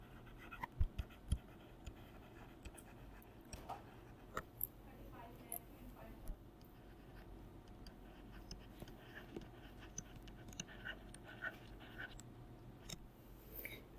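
Pen scratching on paper while an income tax sum is worked out, with faint continuous scribbling and occasional soft taps over a quiet room hum.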